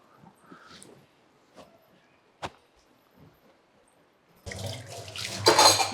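Water running from a tap while dishes are washed, starting suddenly after a few quiet clinks and taps and continuing as a loud close rush to the end.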